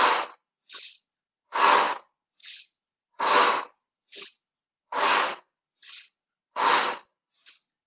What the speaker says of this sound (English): you're blowing out through your mouth and you're swinging your elbows just like that, forcefully